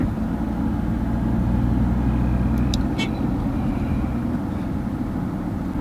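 A car drives steadily along an empty road in Mira Bhayander, its engine and tyre noise forming a loud, continuous rumble, with a couple of brief high clinks around the middle.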